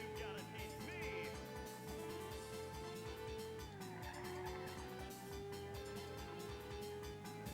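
Cars race and skid in a racing video game, with continuous engine drone and tire squeals layered under game music, steady and fairly loud throughout.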